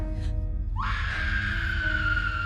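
A woman in a horror film screams hysterically, a long, loud, high sustained shriek that rises sharply and holds, over a low droning background rumble.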